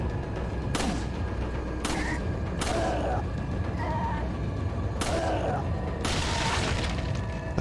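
Sharp gunshots from the Wii Edition of Resident Evil 4 ring out one at a time at irregular intervals, about five or six loud reports, each followed by a brief ringing tail over a steady game background.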